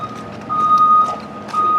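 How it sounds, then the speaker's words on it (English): A 2002 school bus backs in, its reversing alarm repeating steady high beeps over a low diesel rumble, loud and close. "I think he's backing in here."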